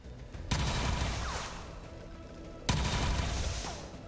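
Gunfire in XCOM 2, two sharp loud bursts a couple of seconds apart, each followed by a rattling, decaying tail of shots and debris.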